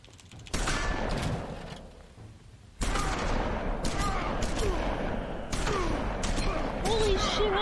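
Gunfire in The Wolf Among Us, a burst of shots opening around half a second in and further volleys later, heard close and loud under game dialogue and shouting.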